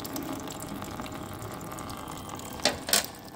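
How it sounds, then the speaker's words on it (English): Water gushes steadily as a jet is forced out of a balloon in a glass of water, a continuous hiss and splash closing with two short, sharper spurts. "it is indeed sort of active water being propelled, forced out of the balloon there"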